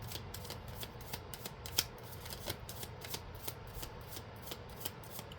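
A tarot card deck is shuffled continuously by hand, close by, producing a rapid, rhythmic riffle of papery slaps and rubs, with one slightly sharper snap partway through and no talking.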